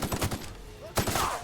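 Gunfire in the video game The Outer Worlds, a rapid burst of several sharp shots, a brief pause, then another burst, loud and close with a voice faintly underneath.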